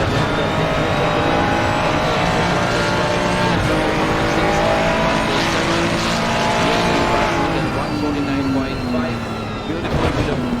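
A race car in Assetto Corsa Competizione brakes into the long right-hand Parabolica turn in third gear, engine droning loud and steady with pitch sliding as it corners, with a voice commentating over it.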